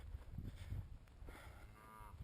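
A cow that has wandered off, giving a faint, distant low moo among soft outdoor background noise.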